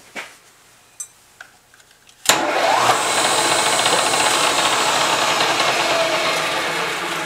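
A Yamaha Commando engine is switched on after a few faint clicks and ticks, then bursts into a loud, steady, close running roar that carries on unchanged to the end.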